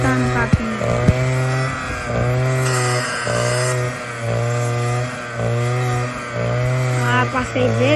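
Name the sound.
machine cutting grass (capim)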